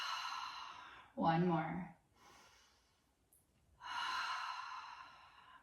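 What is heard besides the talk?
deep breathing during yoga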